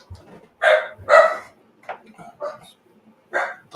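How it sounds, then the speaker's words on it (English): A dog barks in a few sharp bursts nearby, fairly loud, with softer yips between and faint background talk. "Dog's having a fit."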